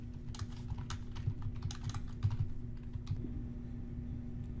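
A computer keyboard being typed on at a steady pace as generic questions are entered, with a run of soft, closely spaced clicks that pauses briefly before a few more keystrokes, over a faint constant hum.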